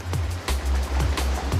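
Ocean waves in the Roblox game roll in a steady, rushing wash with a low rumble, surging at intervals and staying loud and close throughout.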